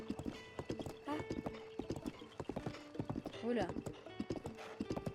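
Horse hooves clip-clop steadily in Zelda: Breath of the Wild, broken up by whinnies, with a man's short exclamations heard over the game sounds.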